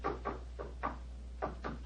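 Knuckles rap on a bedroom wall to test whether it is solid, in a classic detective radio drama: two rounds of three dull, hollow knocks, close and moderately loud, over a low steady hum.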